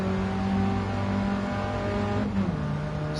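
An old, slightly souped-up Mini revs in Gran Turismo 7, a steady buzzing engine tone that holds and then drops in pitch near the end, loud and continuous with no talking.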